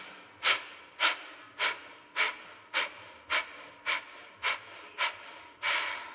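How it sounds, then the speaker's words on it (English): Deep yoga breaths, ten sharp forceful exhales through the nose at an even pace about half a second apart, close and airy, each one pushing all the air out, with no talk. "Letting all the air out."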